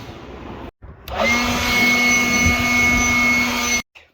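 A blower roars steadily for about three seconds while clearing dust out of a workshop, with a strong whine over a broad rushing airflow, cut off abruptly at both ends.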